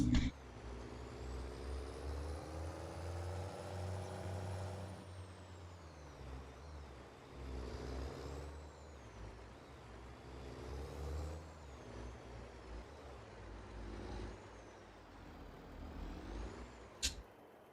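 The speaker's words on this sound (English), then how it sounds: "Alright, trucks incoming." Trucks roll in within Farming Simulator 22, a continuous low diesel engine rumble with shifting revs, gear changes and a sharp air-brake hiss near the end, moderately close.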